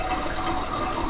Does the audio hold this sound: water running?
yes